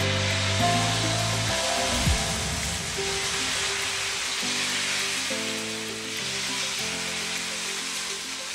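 Mango dosa batter sizzles steadily on a hot pan, a continuous hiss that runs the whole time, partly masked by loud background music with no talking.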